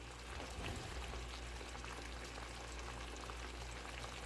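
Kielbasa and tomatoes cooking in a skillet, giving a steady, dense sizzle and bubbling hiss that holds even and moderately loud throughout, with no voices.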